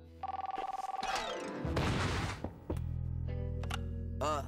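Cartoon telephone ringing with a rapid trilling bell, followed by crashes and a clattering cartoon commotion, with other effects and a brief voice in the background.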